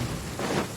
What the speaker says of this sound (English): There's a lot of lightning everywhere.